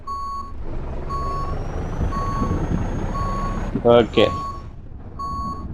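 A truck reversing in the Indian Truck Simulator video game gives a steady run of loud, evenly spaced reversing beeps, about one per second, over a low engine rumble, with a brief voice speaking midway.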